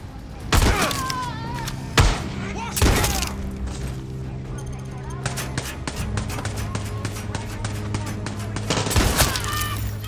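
Gunfire in the first-person shooter Far Cry 6, with several loud, sharp shots and booming impacts spread irregularly across ten seconds over a continuous game backdrop, with a voice talking through it.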